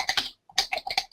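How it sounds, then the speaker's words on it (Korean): Quick bursts of clattering computer keyboard keystrokes, a cluster of presses, a short pause, then another run of taps, close and distinct with no talking. "타자를 쳐보세요."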